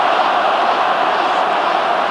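A huge crowd of spectators at the Wigan versus Halifax Challenge Cup final, a steady loud roar of massed voices with no distinct calls or breaks.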